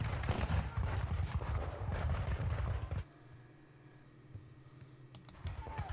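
In the Battle of Waterloo wargame, cannon fire rolls in dense, rapid booming bursts for about three seconds, then drops to quiet, and a couple of sharp distant reports follow.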